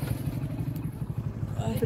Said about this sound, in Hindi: ओ जी दरियाओ पार जनाब असी आ गए मोटरसाइकिल ते